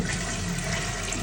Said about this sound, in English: Let's do a flush.